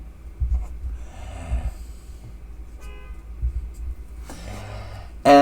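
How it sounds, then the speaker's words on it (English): A pen or marker sketches a graph during a math lesson on horizontal translations, plotting y equals 1 over x minus 1. It gives faint scratchy, squeaky strokes in short bursts over a low background hum. "so I'm just going to start by drawing a graph"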